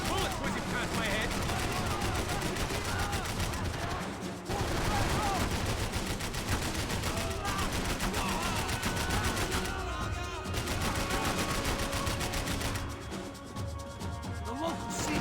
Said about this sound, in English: Bullets whizzing past my head.